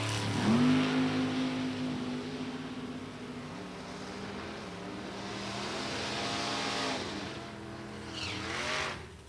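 A 1999 Corvette and an S10 pickup with a 632 cubic inch Chevrolet engine at an NHRA drag race, engines revving loud and close before a rising roar with tire noise, fading then surging again near the end.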